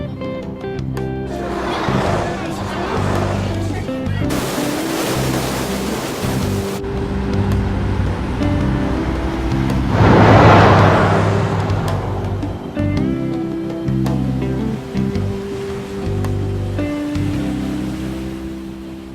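Ocean waves in Persona 5 wash in a broad, hissing surge that swells and fades near the middle, over a steady low ambient hum.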